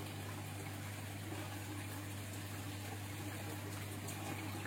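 Water flushes steadily out of an aquaponic grow bed through a siphon, a continuous gushing rush with a low pump-like hum underneath and no voices.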